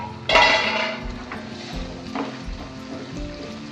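A metal lid lifted off a pot of green peas cooking for a Gujarati fenugreek-and-pea curry: one sharp clank up close, then gentle sizzling and a few light utensil knocks.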